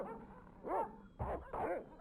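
Dogs barking in the Broken Sword video game, three close, sharp barks in quick succession, loud against a quiet background.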